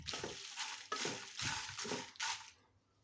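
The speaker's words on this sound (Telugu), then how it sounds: "ఇప్పుడు ఈ మిరపకాయలు కూడా మనం అయితే వేపుకోవాలి బాగా" Dried red chillies tossed and frying in a pan for murungaku karam, giving four bursts of scraping, crackling stir-fry noise close up, then quieting.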